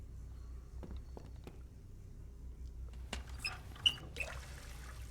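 A tap in The Book of Unwritten Tales 2 turned on, giving a faint thin trickle of running water over quiet background, with a few small clinks and drips near the end.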